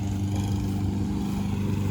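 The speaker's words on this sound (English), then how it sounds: "Joe's got the mowing and going." A lawn mower drones steadily across a big, weedy St. Augustine grass lawn, its engine a constant close rumble with no break.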